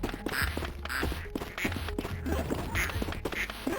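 Ducks quack from an automatic duck machine in the Project P.I.T.T. video game. Repeated quacks arrive in a loose, regular rhythm over a busy mechanical clatter.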